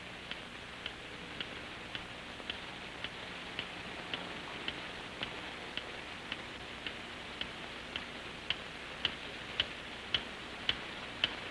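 A time bomb ticking in a rubble-trapped space, sharp regular ticks about twice a second over low background hiss, growing slightly louder toward the end.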